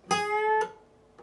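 A single guitar note is picked on the 9th fret of the B string and bent up a half step, ringing clearly for about half a second, then a second fainter pick follows.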